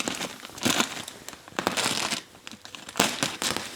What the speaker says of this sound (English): One of the best things you can do with it is cut insulation.